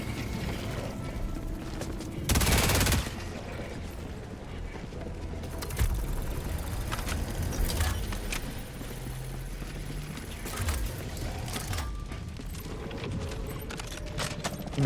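Heavy gunfire from a big gun in Helldivers, a loud burst of sharp blasts around the two-second mark over a busy bed of mechanical clatter, metallic clicks and scattered impacts.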